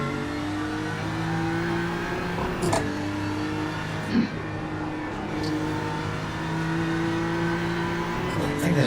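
A popular car's engine hums continuously under way, with steady harmonic tones, a couple of brief knocks and small pitch shifts, and road rumble beneath.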